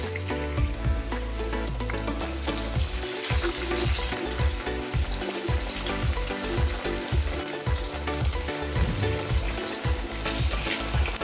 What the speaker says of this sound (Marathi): आता तेल छानपैकी गरम झालेलं आहे. आता आपण वड्या तळून घेऊया.